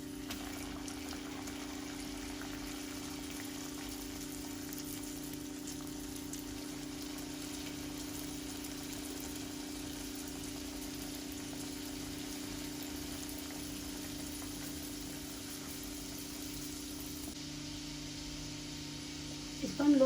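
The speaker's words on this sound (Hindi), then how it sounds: "पैन पे ऑयल गरम करने के लिए रख दिया था, ऑयल गरम हो चुका है। अब इसमें हम समोसा डालते हैं।" Samosas frying in hot oil in a pan over a low flame, a continuous soft sizzle and bubbling hiss that holds steady throughout, close by.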